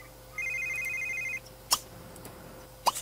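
A mobile phone in The Sims 3 rings with a bright repeating electronic tone for about a second, followed by two sharp clicking interface sounds.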